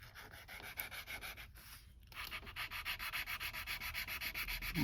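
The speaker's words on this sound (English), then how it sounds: "I'll just give it a quick sand" Steady rhythmic sanding on a part from a 1969 Dodge Coronet Super Bee A-12, a close, continuous scratchy rasp whose regular strokes grow more even and pronounced partway through, with no talking.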